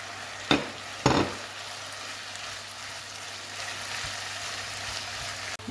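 Grated carrot and zucchini frying in a pan, a soft continuous sizzle with two sharp stirring clatters near the start, then steady crackle alone.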